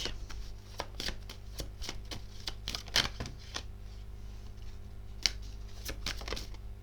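Tarot cards shuffled, handled and flipped over on a table, a run of crisp close snaps and flicks in irregular clusters over a low steady hum.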